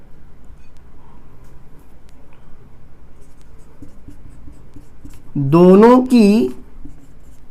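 Writing on a board during a Hindi grammar lesson: faint, steady scratching runs throughout, and a teacher speaks briefly near the end.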